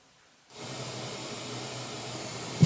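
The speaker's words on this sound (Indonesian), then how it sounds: "saya akan nyalakan pink noise-nya ya teman-teman" Pink noise test signal from a TOPP PRO TPSI 12A active speaker, a steady broadband hiss that switches on abruptly and holds level and loud with nothing else over it.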